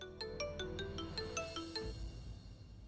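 A mobile phone ringtone plays a bright, repeating electronic melody for an incoming call, close and clear, stopping abruptly after a couple of seconds.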